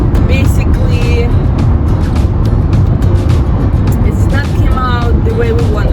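A car drives along a road, a loud steady interior rumble of engine and tyre noise with a person talking throughout.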